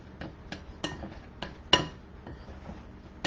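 Keto salmon cake ingredients with coconut flour being mixed in a bowl, a series of about nine sharp clinks and knocks of utensil against dish at irregular intervals, faint and close, with no talk.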